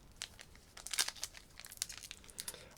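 Crinkling, tearing foil of a Pokémon card booster pack from the Flammes Obsidiennes series being ripped open up close, a run of sharp irregular crackles and rips with no talking.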